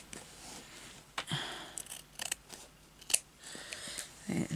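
Scissors snip fabric for an embroidered bag, several quiet, separate cuts spread across a hushed room.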